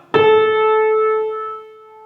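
A single sustained musical note A, struck clearly and ringing with rich overtones before fading gently over about two seconds.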